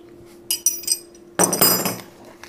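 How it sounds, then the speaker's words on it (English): Metal spindle wrenches supplied with an Altmill CNC router being handled, clinking and clanking in a few quick sharp metallic knocks followed by a longer rattling jangle, close and fairly loud. "These are the wrenches that come with your spindle."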